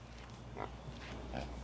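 A pig grunting at a farm animal sanctuary, with a few low, soft grunts repeating against steady background noise.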